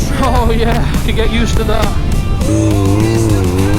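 Honda CBF 1000 motorcycle engine pulling hard out of a bend, a loud close rising whine with steady revs, briefly easing and then climbing again through the gears under wind rush, with a rider talking over it.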